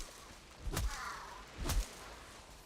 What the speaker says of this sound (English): That crow sounds nuts.